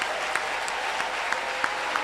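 Church congregation clapping and acclaiming the Lord during a sermon: dense, steady applause fills the whole stretch at moderate loudness, with a few sharper claps standing out, no talk over it.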